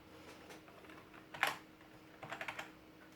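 Keys tapped on a ZX Spectrum keyboard: a few soft scattered presses, one sharper click, then a quick run of four or five clicks, close and fairly quiet with no talk.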